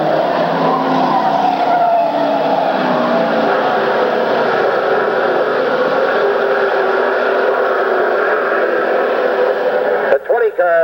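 Race cars roar around an oval track at a 1994 race, engines droning loudly and steadily with a brief sharp burst near the end, all beneath continuous commentary.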